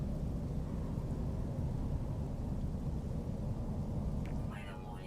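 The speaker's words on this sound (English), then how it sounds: "Weather warning. Incoming storm." Low, rumbling storm ambience from an incoming thunderstorm in the video game No Man's Sky, a continuous broadband roar with brief faint chirps near the end.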